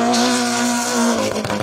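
BMW M3 rally car on a special stage at Rally Wervik, its loud engine holding a steady high note close by before dropping off as it passes and shifts, with a faint tire scrub near the end.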